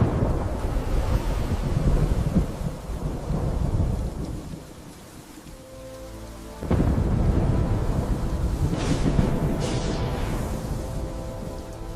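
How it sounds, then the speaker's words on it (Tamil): A storm rages with loud rolling thunder, steady rain and gusting wind, the roar dipping briefly before a sharp thunderclap brings it back to full strength and holds it there. "மீண்டும் புயல் வந்தது"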